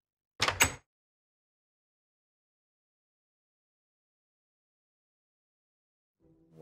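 A wooden door in the Minecraft video game, with one short sharp click-thud near the start, then silence and a faint soft knock at the very end.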